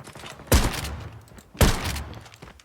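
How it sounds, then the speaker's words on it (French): Two heavy gunshots fired from the hip in a shooter video game land about a second apart, each a sharp, booming crack followed by a short rumbling tail, close and loud. "Ça c'est quand je tire au jugé"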